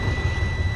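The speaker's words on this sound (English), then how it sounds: "start the truck." A truck's diesel engine turns over and rumbles at a steady, close, low roar during a pre-trip inspection, with no talking.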